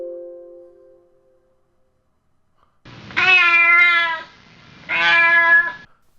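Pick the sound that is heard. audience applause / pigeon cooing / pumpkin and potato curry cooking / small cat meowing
small cat meowing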